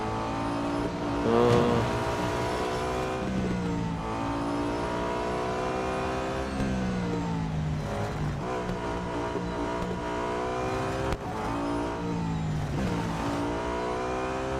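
Race car engines in Real Racing 3 rev and shift repeatedly, the pitch climbing and falling through the gears with tire sliding in a steady, loud in-game mix and no talking.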